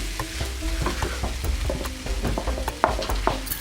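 Onions and mushrooms frying in a pan with rehydrated soy granules, a steady sizzle with scraping and stirring clicks of a utensil against the pan, close and fairly loud.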